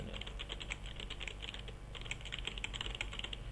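Keys clatter continuously on a computer keyboard while text is typed into a Word 2007 list, with close, quiet, even keystrokes and short gaps, no voices over them.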